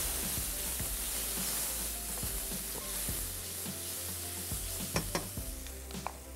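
Ground red chili and cumin powder are stirred into a hot sizzling pan for a fish dish, with a continuous close frying hiss and a few sharper spoon taps and scrapes near the end.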